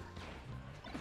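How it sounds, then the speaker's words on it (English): Falco's forward smash connecting in Super Smash Bros. Melee during a competitive tournament match, a dense burst of crash and impact noise layered over continuous game audio and crowd bed, loud and busy throughout. "And there's another one of those forward smashes. They're just connecting."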